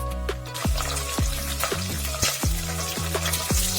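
Mustard seeds, peanuts, chopped onion and green chili fry in hot oil in a pan for khichdi, giving a steady close sizzle with repeated scraping stirs and soft clinks of a spoon against the metal.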